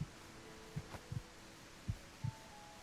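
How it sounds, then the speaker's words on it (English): A faint heartbeat sound effect in the Phenexa - Witch of Fern Island video game thumps in paired beats, two double pulses over a low steady hum, quiet and alone. "I don't want to hear my heartbeat all that"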